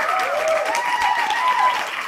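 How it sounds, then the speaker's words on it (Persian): An indoor audience claps loudly and continuously for two contest winners, a dense, even wash of applause with no voices above it. "فعلا این دو نفر تشویق بشن"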